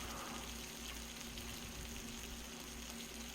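Jerk-marinated chicken thighs fry in a hot pan, giving a steady, close crackling sizzle with a constant hiss that holds evenly throughout, with no talking.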